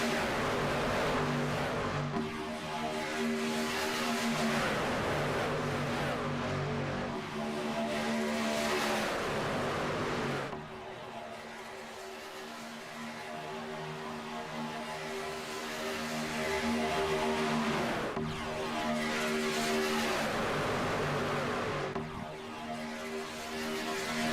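A pack of 29 racing trucks roars around Talladega in a racing game, engines droning in dense layered whines that swell and fade in repeated passes, loud and close, with no voices present.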